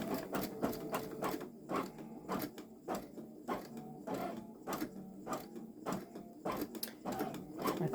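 A Babylock Solaris Vision embroidery machine sews long stitches at slow speed, its needle thumping in a steady, evenly spaced rhythm of sharp mechanical taps with a faint whirring motor beneath, close and clear.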